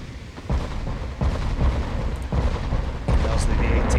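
Naval 18-inch guns fire in the warship game Ultimate Admirals Dreadnoughts: a series of four deep booming salvos, each a heavy low rumble that hangs on before the next, loud and close.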